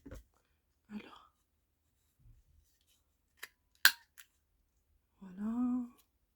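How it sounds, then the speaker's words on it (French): Scissors snipping the corners off paper while making small trading cards, a few sparse crisp cuts close by, with a brief soft voice at the end. "je vais couper juste 2 angles, comme ça"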